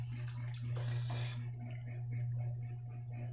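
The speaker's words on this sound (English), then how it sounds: "I'm gonna add the coconut milk and cream now." Coconut milk and cream poured into a spicy Thai/Indian-style seafood curry, a soft liquid pouring splash for about a second, then faint settling drips over a steady low stovetop hum.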